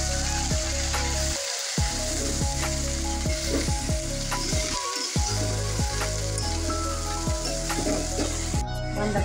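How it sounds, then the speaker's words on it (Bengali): Shredded cabbage fries loudly in hot oil with five-spice, a dense, continuous crackling sizzle close by. Clattering stirs cut in throughout, with two brief dropouts in the low rumble. No one speaks. "বাঁধাকপি কুচিগুলো ভাজা নেওয়া হবে।"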